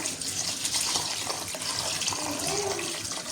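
A full kilo of Indian basmati rice rinsed under a running tap, steady rushing water with swishing and splashing close up, no voices.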